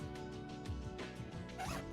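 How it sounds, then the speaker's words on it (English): A clothing zipper is drawn open in a few quick ratcheting rasps, close and fairly clear, with a faint low rumble underneath. "Can you hear my zipper?"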